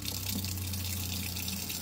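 Water runs steadily from a faucet into an RV sink, a constant close hiss and splash with a low pump hum beneath it, with no talk.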